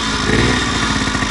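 A moped engine on a home-built scooter project fires up and runs loud and steady, a close, buzzing mid-pitched idle with a slight pulsing rhythm.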